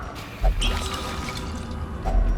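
Holy water being used in Darkest Dungeon gives a soft splashing, pouring sound, fairly faint, with a couple of small liquid plops at the start and end.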